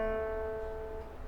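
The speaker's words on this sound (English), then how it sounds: "So try and pluck that single string." A single acoustic guitar string plucked once at the second fret, a clean note ringing and slowly fading over about a second, close and quiet with no talk.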